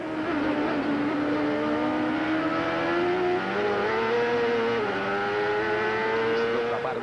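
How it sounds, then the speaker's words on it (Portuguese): Onboard sound of Christian Fittipaldi's Ford-engined racing car, the engine roaring loud and steady with pitch sweeping up through the gears and dropping briefly on downshifts. "Vamos sentir então a saúde do motor Ford do Christian."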